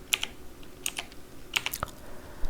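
Quick bursts of keystrokes on a computer keyboard, clustered clicks with short pauses between groups, close and fairly quiet, no voices.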